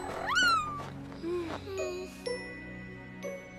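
A cat meowing in a cartoon, with several rising and falling meows close up over bright jingling, tinkling bells and chimes, and no voices.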